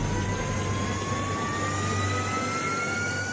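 Horten H-9 jet fighter bomber engine, a steady loud jet roar with a thin whine slowly rising in pitch, heard alone and continuous throughout.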